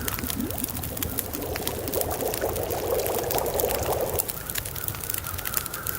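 Water pours steadily into a pot or cup while coffee is made in the snowy survival game The Long Dark, a continuous liquid trickle lasting about four seconds over a constant wind-like hiss, then stopping.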